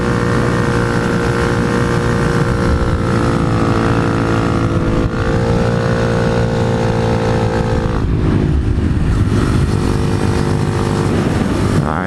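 A motorcycle with RaceTech suspension riding a twisty road, its engine droning loud and steady with a sustained tonal hum and a brief shift in pitch near the end.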